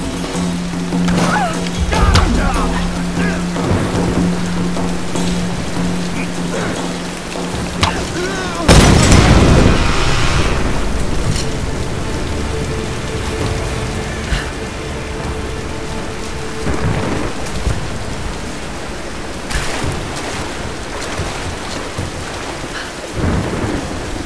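Steady rain and rolling thunder from a thunderstorm in the video game Tomb Raider, with a loud thunderclap near the middle and further rumbles later, a low steady hum underneath in the first part.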